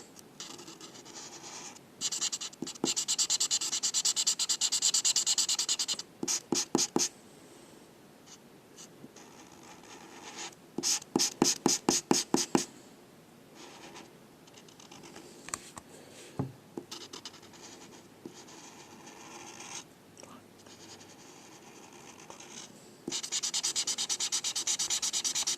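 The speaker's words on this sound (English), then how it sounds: "let's just continue coloring this" Pencil or marker strokes scratch and rub across paper while a drawing is colored in, running as steady shading passages broken by bursts of rapid back-and-forth strokes and short pauses, close and fairly quiet with no talking.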